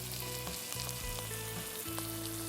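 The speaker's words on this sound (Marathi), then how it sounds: "मसाला चांगला तेल सुटेपर्यंत भाजून घ्या।" Spice masala for stuffed brinjal fries in oil with a dense, continuous sizzle and fine crackling, steady and close without pauses, quiet overall with no talking.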